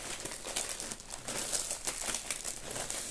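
Crinkly plastic shopping packaging being opened up close, a continuous run of crumpling and crackling rustles at moderate volume with no voice over it.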